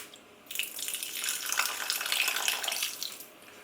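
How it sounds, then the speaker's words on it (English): A small pour of water into a pan of risotto makes a brief hiss and gurgle with a light sizzle. It is close and fairly quiet and fades after about three seconds. "All we're going to do is add a little bit of water"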